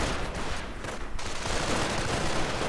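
Dense, continuous battle gunfire from a Company of Heroes match, a steady loud wash of overlapping shots with no clear breaks.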